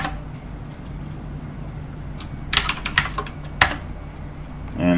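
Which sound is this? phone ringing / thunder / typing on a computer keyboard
typing on a computer keyboard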